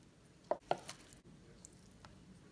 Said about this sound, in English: Make sure to cut it into small bricks.